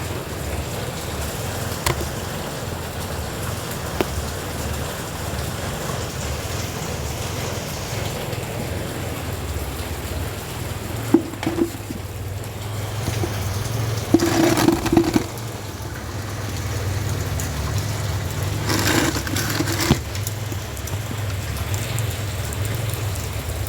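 Steady rain falls on garden plants after two days of rain, a continuous even hiss close by, with a few faint passing vehicle rumbles in the background.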